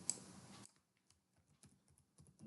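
Scattered, light keystrokes on a computer keyboard as a caption is typed into an interface label, irregular quiet clicks close by after a brief burst of louder noise at the start, with no one speaking.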